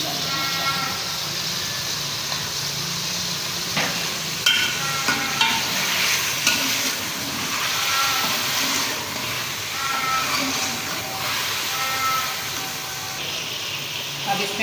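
Chicken sizzling and frying in a karahi as garlic ginger paste goes in, a steady close hiss with scattered stirring clatters and brief louder sputters throughout.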